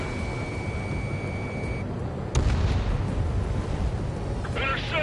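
Anti-aircraft gunfire in the Ace Combat 7 video game, a dense rumbling barrage of booms with a sharp blast partway through, loud and continuous, with radio voices and a tone over it.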